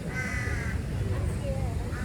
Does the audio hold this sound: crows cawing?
yes